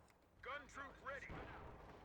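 Tank cannon fire in the Company of Heroes 2 beta as a Puma armoured car shoots at a Sherman, heavy booming shots under excited commentary.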